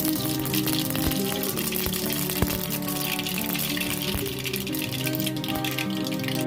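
Mustard seeds sputter and crackle in hot oil in a pan while making nylon khaman, a steady dense sizzle with scattered sharp pops throughout.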